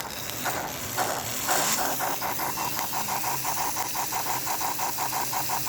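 A model steam locomotive, Leon's R B., puffs and chuffs steadily in a fast even rhythm over a constant hiss of steam and mechanical rattle, close and loud, with no talking.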